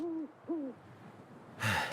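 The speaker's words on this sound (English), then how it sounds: "These owls are going to town on me" Owls hooting in The Long Dark, two clear low hoots close together followed by fainter trailing calls, then a sudden burst of noise at the end.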